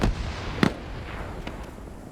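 A grenade launcher round fired in a Cold War military game, one sharp, loud thump near the start, then distant shots and faint pops trailing off across a wooded battlefield.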